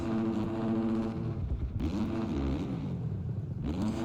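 A Triumph motorcycle engine revs hard and wavers in pitch as the rear wheel slides and loses traction, a loud, close, continuous drone that rises and dips.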